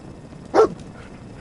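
Dogmeat, the dog companion in Fallout 4, lets out a single short bark, close and moderately loud against quiet game background, with no talking.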